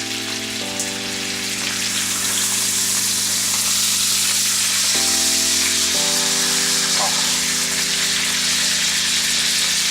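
NY strip steak searing in a pan gives a loud, continuous sizzle and crackle, with a low steady hum underneath throughout.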